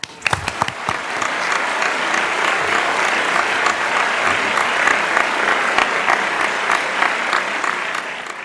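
Loud audience applause welcoming a chorus at a stage concert, dense steady clapping that sustains for several seconds after a few sharp opening claps, with no speech over it.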